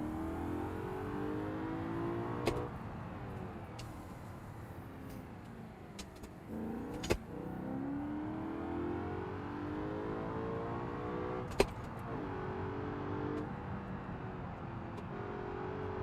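Manual Bolide sports car in BeamNG.drive, its engine droning and revving steadily throughout at close range, with a few sharp clicks or knocks breaking through at intervals.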